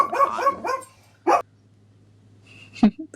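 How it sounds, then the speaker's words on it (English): Puppies let out a quick run of yippy barks close by, then a single bark after a pause and one more sharp yelp near the end, with quiet between them. "And speaking of the puppies, they wanted to chime in right there."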